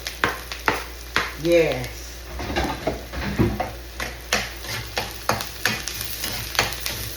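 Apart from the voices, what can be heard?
garlic and onion sautéing in a pan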